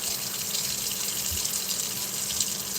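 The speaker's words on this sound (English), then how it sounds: "Okay, wash the rice." Tap water runs steadily into a sink for rice washing while cooking jollof rice, a continuous close hiss and gush with no talking.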